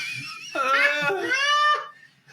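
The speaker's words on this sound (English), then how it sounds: "They keep playing her scream on repeat." A recorded woman's scream from a show plays back as a high, wavering, sobbing wail that rises and then fades out after about two seconds.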